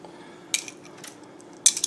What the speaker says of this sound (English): I like using a mortar and pestle.